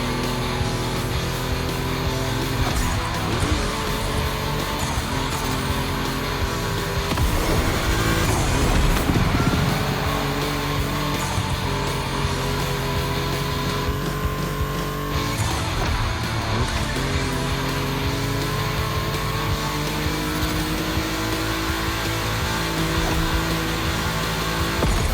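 Volkswagen cars racing around a track in a video game, a steady, dense roar of engines with shifting pitch sustained throughout, with no talking over it.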